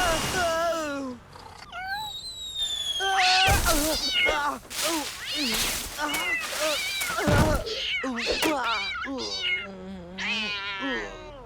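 An animated cartoon cat meows repeatedly in a rapid series of loud, close, varied cries, some drawn-out and wailing, with thumps and other cartoon sound effects between them.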